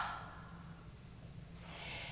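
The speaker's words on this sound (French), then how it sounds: "Une grande expire par la bouche." A deep exhale through the mouth during a yoga warm-up in mountain pose, a soft, steady breathy rush that swells toward the end, close and alone.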